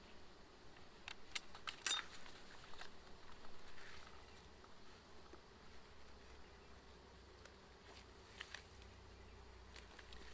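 Honeybees buzz around the entrance of a nuc hive outdoors, a faint, steady hum with scattered brief louder passes of individual bees close by.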